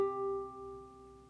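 A single plucked G note on a ukulele, third fret of the second string, played plain without vibrato, rings steady and clear as one sustained tone that slowly fades alone.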